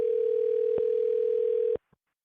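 An outgoing telephone call's ringing tone: a single steady, even electronic tone held for nearly two seconds, then cut off abruptly and followed by a faint click.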